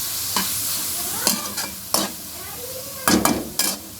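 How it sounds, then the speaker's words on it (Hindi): Vegetables stir-fry in a pan with a soft background sizzle, punctuated by several sharp scraping and clinking strokes of a utensil against the pan, close by and with no talk. "उसके बाद वेजीज को अलग फ्राई करेंगे"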